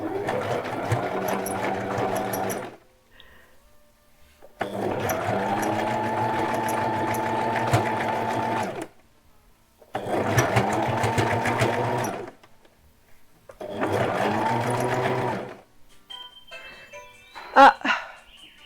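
A sewing machine stitches underwear in four long steady runs of fast rhythmic whirring, separated by short pauses, followed by faint clicks and a brief bump at the end.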